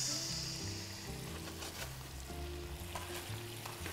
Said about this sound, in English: you can hear the music of the lobster cooking